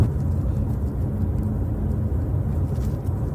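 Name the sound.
car interior noise in a police recording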